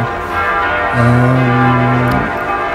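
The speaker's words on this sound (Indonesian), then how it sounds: "di katedral itu bel loncengnya lagi berbunyi" Bells of Notre Dame de Paris, the Gothic cathedral, ringing with sustained resonant tones over a busy outdoor background, heard from a distance.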